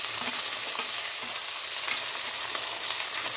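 Chopped beans hiss and crackle steadily in a hot pan of oil, a continuous broadband sizzle with faint stirring clinks, close and fairly loud with no voices.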